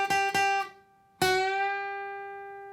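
Electric guitar picked twice, then a single note at the 7th fret of the second string rung out and bent up a half step, ringing clearly and decaying slowly with no talk.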